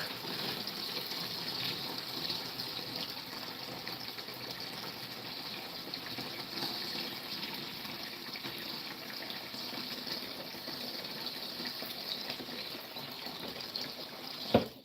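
Water gushes steadily from a tap into a soaking tub being filled for a guinea hen, a continuous close hiss and splash that holds level throughout with no voices, ending in a brief knock.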